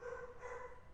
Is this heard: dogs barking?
yes